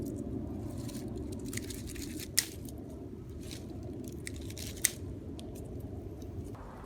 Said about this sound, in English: deadhead the dead flower blooms by cutting or pinching them off